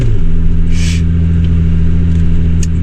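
A car driving through the UAE desert, its steady low engine rumble and drone close and continuous, with a brief hiss partway through.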